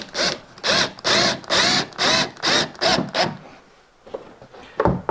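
A power drill drives fixings through a cable rail into a workshop wall, buzzing in seven close, loud, evenly spaced bursts before going quiet apart from a couple of small knocks.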